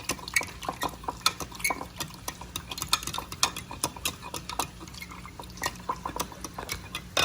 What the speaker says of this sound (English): Then I'm gonna mix it up because this is gonna be our sauce for our noodles